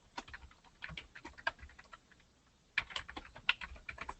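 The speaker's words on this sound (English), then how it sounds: "And we can type in" Quick bursts of typing on a computer keyboard, light clicking keystrokes in clusters with a pause in the middle before a second flurry, close and fairly soft.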